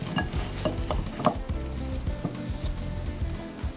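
Sugared peaches sizzling in a pan as they caramelize, with a steady close-up frying hiss broken by soft stirring and tossing scrapes, and no voices.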